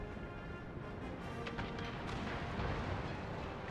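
Carronade cannons fire from a sailing warship in a naval battle video game. A dense wall of rumbling, booming blasts rolls continuously, loud and layered, with no pause.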